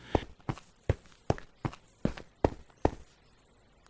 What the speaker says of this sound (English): I heard footsteps.